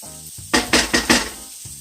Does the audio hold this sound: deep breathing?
no